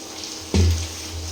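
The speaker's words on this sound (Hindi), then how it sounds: "तो इसमें हम पानी डाल देते हैं" Water poured from a tap into a pot of ground masala (turmeric and chilli) for a recipe, a sudden short gush that settles into a steady low rush, close up with no talking.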